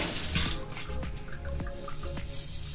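Tap water running into a sink to wet a makeup beauty blender sponge, a steady close splashing stream with brief drips and clinks over it, no speech.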